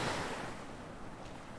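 Ocean surf washing steadily on open water under a scorching sun, a broad continuous wash of waves with some wind, fairly faint and unbroken, no voices.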